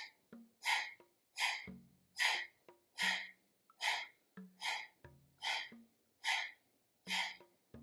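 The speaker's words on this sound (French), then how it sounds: "On inspire à moitié." Rhythmic breathing during a yoga exercise: about a dozen distinct, close breaths in steady succession, each a short airy rush, fairly quiet with no talking.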